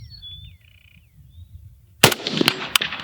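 A rifle shot cracks out sharply after a quiet start with faint chirping bird-like tones, followed by a few more short, loud reports and rattling echoes.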